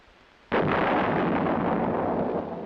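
A field artillery weapon fires once with a sharp, heavy blast, followed by a long rumbling roar that sustains to the end, no voices.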